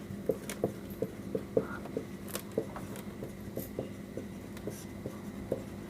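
Someone writes out a math solution, with steady taps and scratches as the writing tool strikes the surface at a quick, even rhythm, close and fairly quiet, with no voices.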